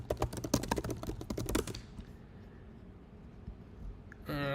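Rapid keystrokes on a computer keyboard in a dense burst of typing, close and clear, then stopping into quiet room tone before a brief louder noise at the end.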